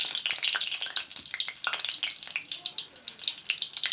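Slit green chilies sizzling in hot mustard oil, a steady bright crackle and spatter throughout, close and fairly loud with no talk.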